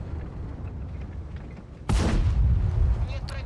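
A tank cannon fires in World of Tanks while driving the Object 283, one sharp loud blast cutting through a low rumbling engine bed and ringing out for over a second.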